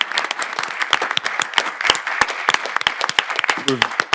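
An audience claps loudly and steadily to congratulate a new assistant principal at an evening board of education meeting, with dense applause running throughout and faint voices beneath it.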